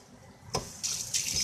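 Tap water splashing over cooked chow mein noodles in a kitchen sink, starting with a brief splash and then a steady, fairly close hiss of running water.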